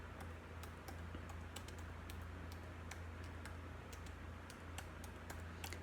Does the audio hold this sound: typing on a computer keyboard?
yes